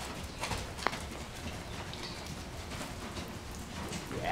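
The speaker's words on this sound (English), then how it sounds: "sitting trot in preparation for canter, and when you're ready, left lead canter" A horse cantering on the left lead during a riding clinic, its hoofbeats a steady clip-clop rhythm at moderate distance under a soft, rain-like background hiss.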